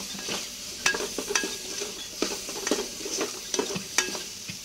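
A spoon scrapes and stirs sliced onions, coriander, chili powder and turmeric in a hot pan for sweet corn soup, with repeated rhythmic scraping strokes over a soft, steady sizzle.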